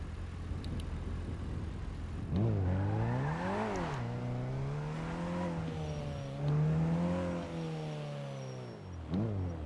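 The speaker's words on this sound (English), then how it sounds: "you cannot get on me when you got cops drifting around corners" A police car drifting around corners in a GTA roleplay server, its engine revving up and down in long swooping pitch changes with faint tire squeal, steady and close with no talk.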